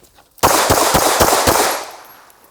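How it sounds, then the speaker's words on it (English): About five pistol shots fired in quick succession by a shooter moving during a defensive pistol drill, loud and sharp with echoing tails and no talk. "Once I go, get my gun out, move back, and I'm going to fire a few shots."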